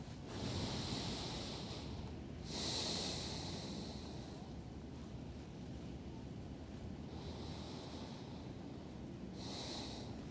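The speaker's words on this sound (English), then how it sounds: "take slow breaths in and out" Slow, deep breaths drawn in and out while resting in a yoga pose, each exhale a soft airy rush set against steady low background noise, with about four long breath cycles and no talking.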